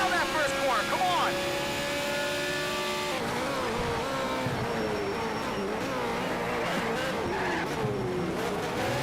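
Race cars in the racing game Need for Speed Shift 2, including an all-wheel-drive Scion, engines whining and revving through gear shifts, close and loud throughout, with a voice talking over the engines.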